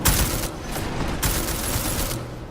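Gunfire in the video game Deus Ex: Mankind Divided, two loud bursts of rapid shots about a second apart, each trailing into a rough noisy tail.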